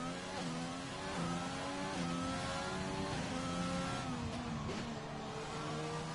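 Formula 1 race cars in an F1 game at Monza, several engines droning and revving through the Parabolica corner, layered high-pitched whines shifting up and down continuously at moderate distance.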